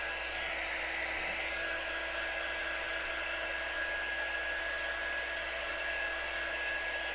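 A heat tool drying wet paint on a breadboard runs as a steady, even whirring blow with a faint high whine, constant and close throughout, with no talk.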